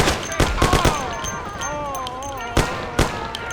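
Sharp gunshots from the Mafia video game, loud cracks spread across the moment, clustered early then two isolated reports, with tonal sound carrying between the shots.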